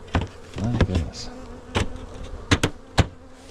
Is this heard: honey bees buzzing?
yes